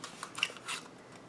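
Scissors make two or three quick, light snips, trimming excess material from a steampunk papercraft project, soft and close in a quiet room with no voices.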